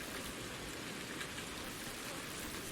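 Steady rain patters on water and surfaces in the VR game Ultimate Fishing Simulator, a dense, even hiss of drops that holds constant throughout with no voices.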